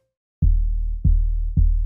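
An 808 bass synthesized in Serum 2, with oscillators A and B pitch-modulated by an envelope, hits three times in a row, each note starting with a quick downward pitch drop into a loud, deep sustained boom, alone.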